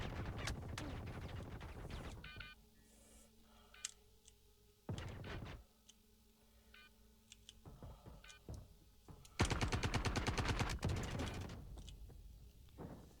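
Shotgun blasts and gunfire in the video game Star Citizen, a dense loud burst of shots at the start and another near the end, with sparser sharp reports and quieter stretches between.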